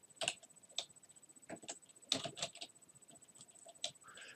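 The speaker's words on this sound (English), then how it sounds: "I'm going to go ahead and type in my summary" Quick, irregular clicks of fingers typing on a computer keyboard, soft and close, in short bursts with brief pauses and no talking.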